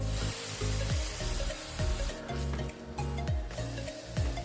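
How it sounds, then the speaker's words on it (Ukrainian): Steady sizzling of pancake batter frying in a pan oiled with vegetable oil, with a few soft scraping and stirring sounds close by. "Тож ідемо смажити наші млинці."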